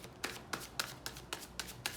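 A deck of tarot cards being shuffled by hand, with seven crisp riffling bursts at a steady rhythm of about one every quarter second, close and clear with no talking.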